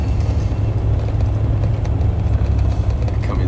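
A Patriot truck rolls past on a high-desert Nevada road, a steady, loud low engine rumble holding level throughout with no talk.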